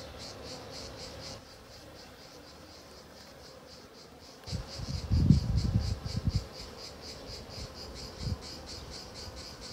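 Honeybees buzz steadily inside a calm beehive, a continuous close hum with soft rustling and a few louder thumps of handling in the middle.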